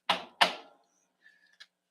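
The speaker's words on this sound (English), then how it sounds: "I got to shuffle cut the deck one more time." A deck of tarot cards is shuffled and cut, heard as two quick, close riffling bursts followed by a couple of faint soft taps in an otherwise quiet room.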